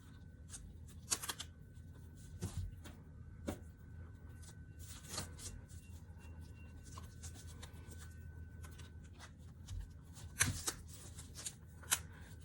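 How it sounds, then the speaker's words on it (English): Rubber bands being stretched and snapped around folded fabric for sekka shibori, giving soft rustling, rubbing and occasional sharp snaps close by, with no talking. "this time I'm going to use rubber bands to secure it"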